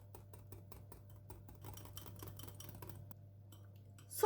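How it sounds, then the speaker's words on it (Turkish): Whisk beating a börek filling with salt and half a bottle of soda water in a bowl, a steady run of quick light taps and clinks against the bowl, close and fairly quiet, with a louder clatter at the very end. "yarım şişe soda katıyorum. Bunları güzelce de çırpıyorum"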